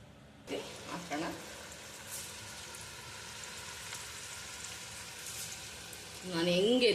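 Beetroot chakli fries in hot oil with a steady low sizzle and occasional bubbling bursts, quiet and continuous, with a voice speaking near the end.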